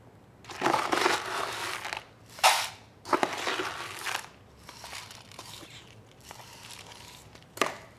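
Mushy, rotting pieces being cut away from a Hoya plant: irregular bursts of close, wet crunching and crinkling, separated by short pauses, with no talking.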